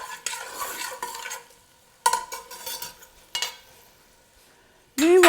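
Vegetables cooking in a pan for a vegan coconut lemongrass lime soup, a spoon stirring in a few distinct scraping bursts over a soft sizzle, close up, ending in a louder clatter, with no talk.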